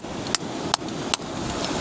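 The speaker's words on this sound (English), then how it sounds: "I actually think this could be a good one to use the hammer and chisel." A hammer strikes a chisel set into a fossil nodule three times at an even pace, each a sharp metallic tap up close over a faint steady outdoor background.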